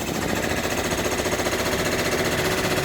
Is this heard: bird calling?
no